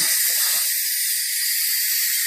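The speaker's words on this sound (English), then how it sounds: "we just need to release that steam again" Steam hisses steadily from the release valve of an Instant Pot pressure cooker, loud, close and continuous throughout, with no talk over it.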